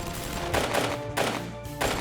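An M249 SAW light machine gun fires in a video game, sounding as roughly three dense, rattling bursts over a steady backdrop of continuous gunfire noise.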